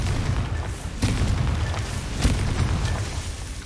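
Confringo fire spell explosions in the video game Hogwarts Legacy: a few sharp booming bursts, two standing out, over a dense, constant rumbling background of game noise, with no talk.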